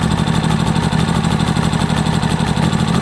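A GTM R2500IS 2.5 kW inverter generator runs steadily while warming up, a loud, close, even engine drone with a fast pulsing throb and no speech.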